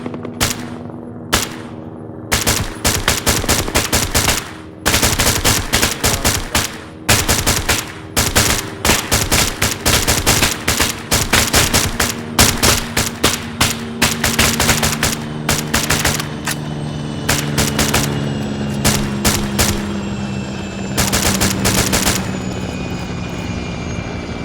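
Return gunfire in an Arma 3 military-simulation mission, with an Mi-8 helicopter overhead: long, loud bursts of rapid automatic fire crackling in dense volleys, broken by short pauses, over a constant rotor drone.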